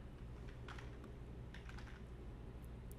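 An email address being typed on a computer keyboard, with dense quick key clicks in short bursts over a steady background hum.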